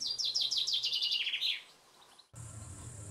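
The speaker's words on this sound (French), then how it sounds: "Il chante dans l'épicéa, il chante dans le prunier, il chante sans arrêt." A small songbird, likely a finch, sings in a forest of spruce and plum trees, giving a quick run of bright descending chirps, then a pause and a higher sustained trill over low background hum.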